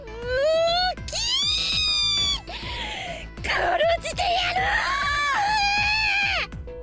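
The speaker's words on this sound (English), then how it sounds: "Oh man, that shrieking." Shrill, wailing character shrieks from the video game Zero Escape: 999, several rising and falling cries in quick succession, loud and close over a steady game music backing.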